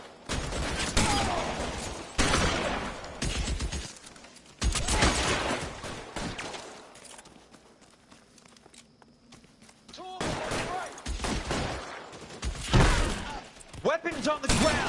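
Bursts of video game gunfire and heavy thuds arrive in loud clusters, separated by quieter gaps, with voices talking over the combat.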